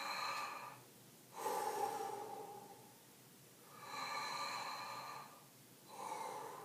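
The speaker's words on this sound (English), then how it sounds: "So a big breath." Slow, deep breaths drawn in and pushed out in an exaggerated belly-breathing rhythm, two full cycles heard up close with quiet pauses between.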